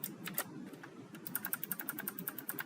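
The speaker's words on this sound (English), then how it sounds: "man, I can't type." Typing on a computer keyboard while entering an equation: quiet, irregular clicking keystrokes, sparse at first and then a quicker run of taps, close and alone without talk.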